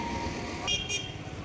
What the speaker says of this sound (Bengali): প্রচুর যানবাহন যাচ্ছে